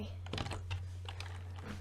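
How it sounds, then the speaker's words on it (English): Quick, uneven clatter of keys on a computer keyboard, a steady run of soft clicks at moderate loudness over a constant low electrical hum. "can you start typing with both hands?"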